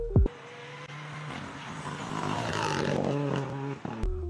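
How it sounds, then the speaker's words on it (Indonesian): A rally car braking hard: engine and drivetrain noise builds and drops sharply as the car slows, with shifting tonal whines and a brief clunk near the start and end, heard close and alone. "Jika kalian melihat mobil rally melakukan hard brake kayak gini"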